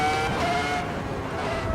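Race car engine in the racing game Assetto Corsa EVO, a loud, sustained engine drone with shifting tonal whine, continuous and close throughout.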